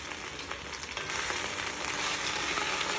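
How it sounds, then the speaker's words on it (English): Escarole sizzling and frying in hot garlic and olive oil, a steady dense crackle that holds without pause, close and fairly loud, with no voices. "We want to get that nice and hot so that the garlic and the olive oil"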